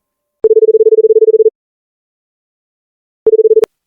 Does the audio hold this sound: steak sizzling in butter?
no